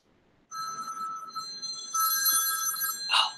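A telephone rings close by in a quiet room with an electronic, bell-like trill. After a brief pause the ring returns louder and brighter, and a short clatter follows at the end.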